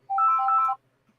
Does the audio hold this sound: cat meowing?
no